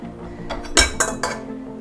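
A big stand-mixer bowl being handled gives three sharp clinks and clanks in quick succession over low kitchen rumble, with no speech.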